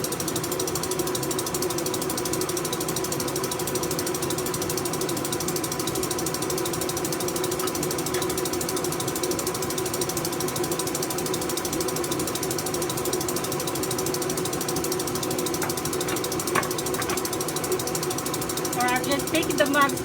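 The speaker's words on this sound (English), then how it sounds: "Ignore the noise. It's one of the metal bits of my mixer." A kitchen mixer with a loose metal part keeps up a continuous mechanical rattle and ratcheting clatter for twenty seconds, loud and steady, with a few brief clinks near the end.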